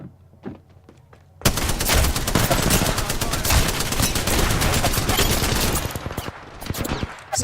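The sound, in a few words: gunfire in a video game shooter round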